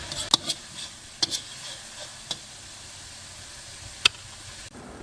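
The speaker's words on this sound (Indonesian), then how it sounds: "Ini saya mau tumis dahulu supaya aromanya wangi dan sedikit layu saja" Coarsely chopped shallots and garlic sauté in a pan, giving a soft steady sizzle broken by a few sharp ticks and clinks from stirring, with no one talking.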